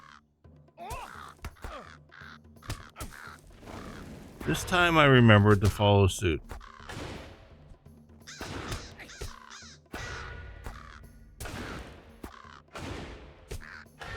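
A large crow-like bird caws loudly in the online game LOTRO, with harsh repeated calls amid combat hits and effects, while someone talks over it.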